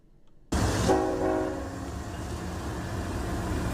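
A freight train stopped in a residential neighborhood rumbles loudly and steadily, with a horn blast sounding near the start over the continuous heavy rolling noise.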